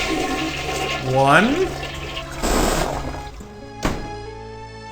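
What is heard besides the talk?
toilet flush from a video game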